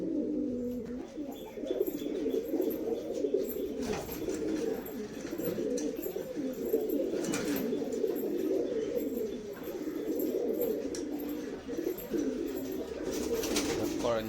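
Pigeons coo steadily and close by in a low, throaty rolling rhythm, with a few faint chirps over it and no talking.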